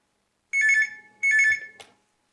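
A telephone rings for a call-in hearing-care program, giving two clear electronic trills with a short gap between them, then a brief click, close and alone in otherwise silence.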